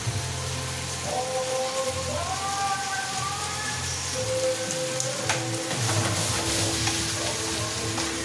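Lechon kawali roast pork and vegetables stir-frying in a pan, a steady close sizzle and crackle running throughout with faint tonal clatter and background hum, no talk.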